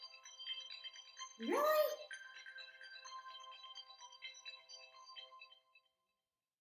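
A phone text message alert keeps ringing as a looping, bright electronic tone for several seconds, with someone briefly speaking over it before it cuts off.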